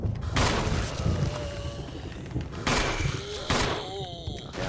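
Gunfire in the Resident Evil REmake video game, several loud booming shots spaced a second or so apart with ringing tails, over a constant dense game background.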